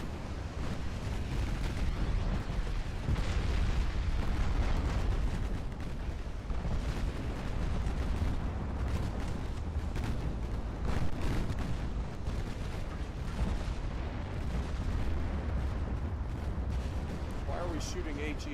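Heavy 18-inch naval gunfire from battle cruisers in the game Ultimate Admiral Dreadnoughts, a dense, continuous rumble of booming salvos and explosions filling the whole stretch, loud and sustained with a voice talking over it.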